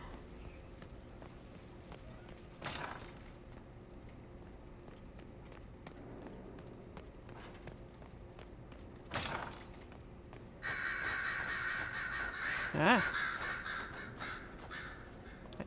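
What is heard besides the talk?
crows cawing in the video game Dragon Age Inquisition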